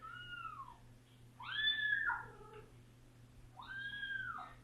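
Cat named Duke Derby of Yellington yowling in drawn-out, rising-and-falling wails, two main calls with a shorter one between, fairly close over a low steady hum; no talking.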